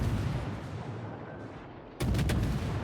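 A naval gun salvo in World of Warships, fired by the Fletcher destroyer: a sudden loud broadband blast at about two seconds with several quick cracking reports, following a steady low rumble of ambient battle noise.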